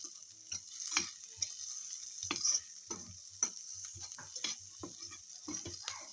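Ground pork frying in a pan, a steady soft sizzle with intermittent scraping and stirring clicks from a utensil, close and fairly quiet with no talk.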